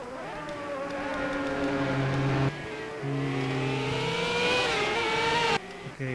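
Race cars in a racing video game set at the Firestone Grand Prix of St. Petersburg roar steadily throughout, their engine tones rising and shifting as they accelerate, loud and close, with a brief cut near the end.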